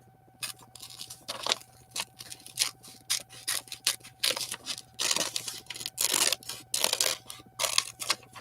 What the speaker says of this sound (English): Let's go ahead and cut the middle out of that donut.